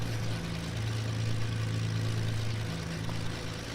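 Twin piston engines of a Beechcraft B60 Duke idle at about 1000 RPM in a flight simulator, a steady low droning hum with a faint beat running continuously and fairly loud throughout.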